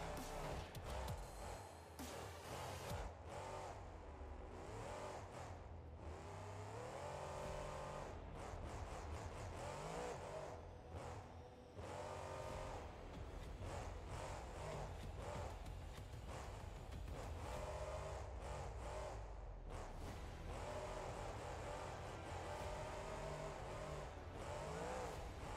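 A monster truck on a CRD 2.0 chassis drives in the BeamNG.Drive game, its engine roaring continuously and loudly with revving swells, tire noise and occasional thuds, no talk over it.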